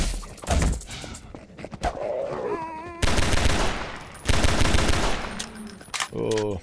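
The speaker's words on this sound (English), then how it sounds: "I know I'm wasting bullets, but I just have such a great time watching them go into the sky" Gunfire from Half-Life 2 in loud, rapid bursts, with a dense rattling volley, a sharp break, then another sustained burst, and scattered game sounds and tones between the shots.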